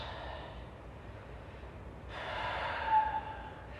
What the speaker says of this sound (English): Last 2 deep breaths